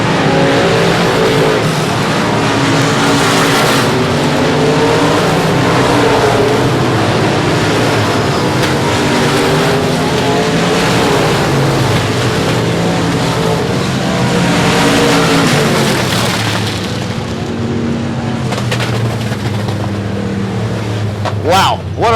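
Race cars roar around the track at South Texas Speedway in Corpus Christi during the South Texas Shootout, a steady, loud engine drone that swells and fades as cars pass, with an announcer talking over it.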